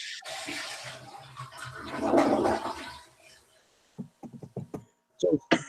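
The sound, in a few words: toilet flushing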